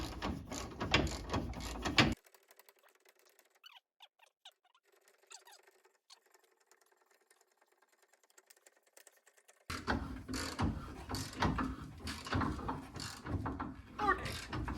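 A hand ratchet tightens a bolt during a car transmission install, rattling loudly and rapidly in two long bursts separated by a quiet stretch with faint clicks.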